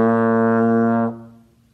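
A trombone holds a steady, rich B flat in first slide position, close and loud for about a second, then cuts off and leaves a short decaying echo of the room.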